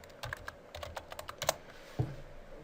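Close, quiet clicking of keys on a computer keyboard, a quick uneven run of taps followed by a firmer final keystroke, with no talking.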